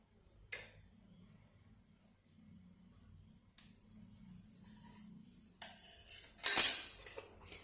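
A teaspoon clinks against a coffee cup while ghee is stirred in, with a sharp tap near the start and then a cluster of brighter metallic clinks toward the end, soft and close with no talk.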